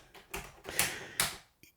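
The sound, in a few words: typing on the Atari 130 XE keyboard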